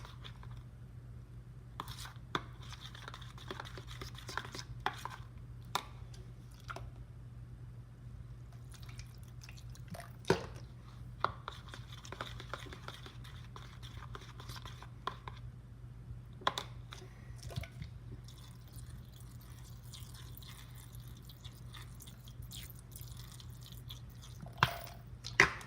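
Clear floam bead slime being mixed by hand after small additions of contact solution, giving soft wet squishes, drips and crackly bead clicks scattered irregularly over a steady low hum, close and fairly quiet.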